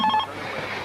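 A domestic telephone rings with a short burst of electronic trilling bell tones, close and clear, then stops and leaves a soft room hum with no speech.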